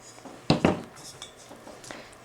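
Small planter pots knocked together as they are handled, two sharp close clinks followed by a few softer taps and scrapes.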